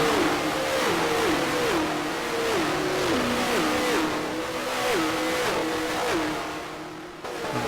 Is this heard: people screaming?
no